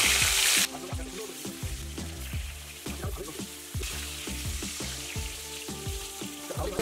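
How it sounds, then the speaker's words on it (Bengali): Marinated katla fish pieces fry in hot oil for a Bengali curd fish dish, a loud steady sizzle broken by rhythmic clattering bursts as the pieces are turned in the pan. "ভালো করে সুন্দর করে ভেজে নিতে হবে"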